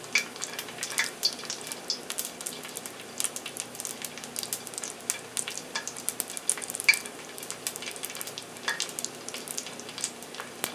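Garlic and herb fried dough sizzles in hot oil, a steady dense crackle with bright pops scattered throughout, close and fairly loud with no voices.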